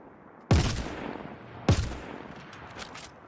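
Behring FS9 light machine gun in Star Citizen letting off two sharp, separate loud shots about a second apart, each trailing off in a short echo, with faint clicks afterward.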